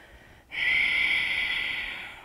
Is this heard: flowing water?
no